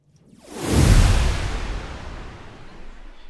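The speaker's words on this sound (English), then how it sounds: "You hear how we get this like artifacty, like prolonged whoosh sound." A prolonged, artifact-laden whoosh built from stacked delay plugins swells in over half a second, peaks loudly, then trails off in a long smeared wash of noise.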